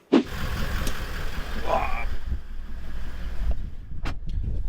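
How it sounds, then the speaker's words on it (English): A Toyota Landcruiser fitted with a BMW shifter pulls away, a steady low engine drone and road rumble with wind rushing past the cabin and a few faint interior clicks, heard from inside while moving. "Let's take it for a quick drive."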